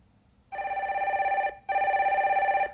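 A telephone rings twice on a live call-in broadcast line, two even electronic trills separated by a short gap, clear and close without talk.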